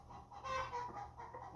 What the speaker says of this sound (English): Excuse all the chicken excitement out there. Somebody just laid an egg.